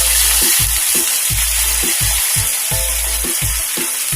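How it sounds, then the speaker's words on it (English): Red wine poured into a hot pot of deer and onion stew sets off loud, steady sizzling and bubbling, with rhythmic scraping thuds as the contents are stirred, no voices. "I'm going to add some red wine."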